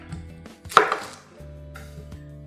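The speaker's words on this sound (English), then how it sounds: "And chop it." A red onion is chopped with a knife in a home kitchen while making kebabs. One sharp, distinct chop stands out among a few softer knife taps, with no talking.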